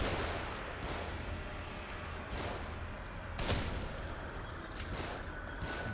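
Enemies in the horror game The Evil Within fire from above in a sequence of distant booming gunshots, including one sharper crack, spaced irregularly over a dull rumbling background.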